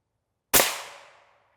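A single sharp, loud crack of an M993 armor-piercing rifle round fired into a body armor plate, with a quick attack and a short ringing decay, alone in an otherwise silent setting.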